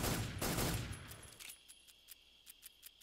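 Gunfire in Metal Gear Solid 3 as a magazine is emptied: a quick rapid burst of shots at first, then fading into a string of fainter, spaced clicks and pops.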